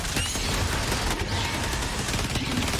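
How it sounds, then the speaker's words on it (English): A charged cannon firing in a video game, a dense rapid fusillade of loud blasts filling the short stretch with continuous explosive crackle. "you hold the cannon to charge it and then it shoots"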